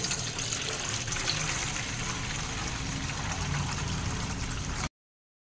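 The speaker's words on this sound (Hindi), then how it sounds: "कलेजी को हम किस तरह से वॉश कर सकते हैं वो आप यहाँ पर देख लीजिए" Goat liver rinsed in water, a steady close gush and trickle of running, splashing liquid lasting several seconds without pause, with no voices.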